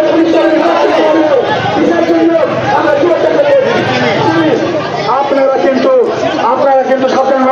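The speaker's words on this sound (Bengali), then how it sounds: "টায়ার জ্বালিয়ে বিক্ষোভ আর তাতে ব্যাপক উত্তেজনা ছড়ায়" A dense crowd of protesters who lost their jobs clamors loudly outside an education office in Bardhaman, where tires are being burned, a continuous roar of overlapping voices and shouts filling the scene.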